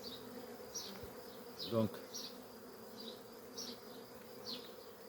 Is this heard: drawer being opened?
no